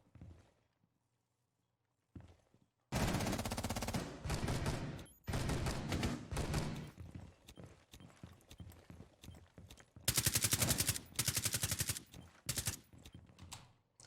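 Rapid bursts of gunfire from a Rainbow Six Siege match ring out loud and close in several volleys, with quiet footsteps and gaps of near silence between the bursts.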